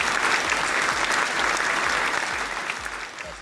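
Steady applause from an audience honoring two teams at a conference after-party, a dense wash of clapping that holds evenly throughout and thins slightly at the end.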